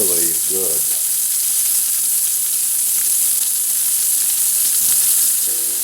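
Pieces of beef for a pot roast sizzle loudly and steadily as they brown in a pan, with a brief voice at the start and again near the end.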